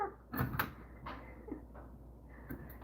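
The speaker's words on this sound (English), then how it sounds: "I heard the door open." A door opens nearby with a couple of sharp knocks from the latch and frame, then softer bumps and a faint slide as it settles, with no talking.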